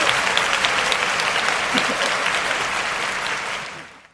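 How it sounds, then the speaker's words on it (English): Steady, dense applause from a crowd, with clapping sustained throughout and tapering off at the end. "Let's give it a loud fucking heavy metal applause"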